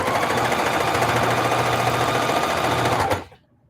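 Denim quilt appliqué being stitched on a sewing machine: a loud, steady, fast-running whir close by, holding even for about three seconds before stopping abruptly.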